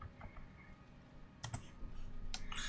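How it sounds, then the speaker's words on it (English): Quick bursts of key clicks, someone entering numbers into a calculator on a computer keyboard; a couple of separate taps, then a denser flurry of keystrokes toward the end, close and fairly quiet. "I'm just going to type in the calculator"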